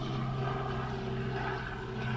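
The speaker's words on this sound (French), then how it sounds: "Voilà un petit hélicoptère qui passe dans mon jardin." A small helicopter passes over a garden, its steady engine and rotor drone held at an even level for the whole stretch with no voices over it.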